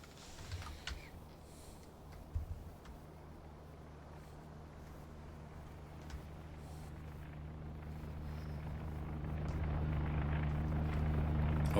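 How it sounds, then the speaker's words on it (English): A single aircraft drones in over a steady low engine hum in the U-boat game UBOAT, set in the Mediterranean off Gibraltar, its rumble swelling gradually louder as it approaches, with no talk. "There it is coming in. But it seems to be just one single plane."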